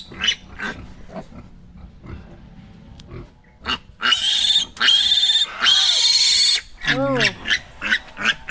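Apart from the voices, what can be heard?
piglet squealing during tail and teeth cutting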